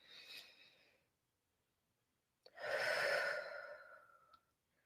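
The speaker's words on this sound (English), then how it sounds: "Just breathe in your mouth. Hold it for a couple of seconds and let it out your nose." Two audible breaths: a short inhale through the mouth, a pause, then a longer, louder exhale through the nose, close and soft with no talking.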